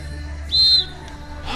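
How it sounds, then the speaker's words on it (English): A referee's whistle gives one short, shrill blast at a beach volleyball match, clear over a low background rumble. A faint second chirp follows shortly after. "Ball is whistled out of bounds"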